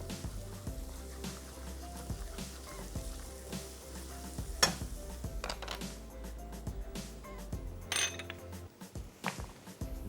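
Dry red chillies sizzle and crackle in hot oil for a tadka, a steady close fry with clinks and scrapes of a spoon stirring in the pan and no talk.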